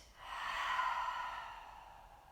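A long, slow exhale during a guided meditation with hands in prayer position, a soft airy sigh that rises quickly and then tapers off gradually, heard close and quiet with no talking.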